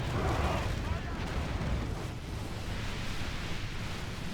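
Mangonels fire in a Crusades-era strategy game battle, a loud continuous rumble of heavy impacts and roaring bombardment with a dense low boom throughout, slightly stronger at the start.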